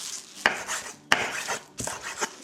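A knife finely chopping herb leaves on a board, with three sharp distinct knife strikes between softer scraping and rustling, close and fairly quiet, no talking.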